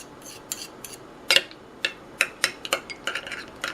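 Spoon clinks and scrapes against a bowl while cabbage salad is stirred together with a mayonnaise and honey dressing, a run of short, close clicks and taps growing busier toward the end, with no talking.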